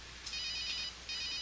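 In the game Runaway: A Road Adventure, a telephone rings electronically in two bright trilling bursts with a short gap between, clear and steady, with no speech.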